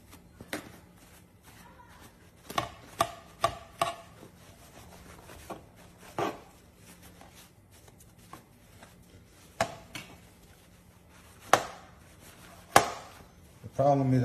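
A knife chops and shaves food on a board, sharp irregular thunks scattered across the stretch with softer scraping in between, close and fairly quiet.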